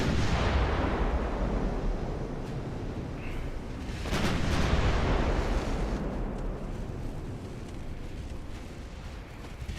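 Naval gunfire from cruisers in the video game Ultimate Admiral Dreadnoughts, a dense continuous rumble of distant booming salvos that swells midway, with no talk.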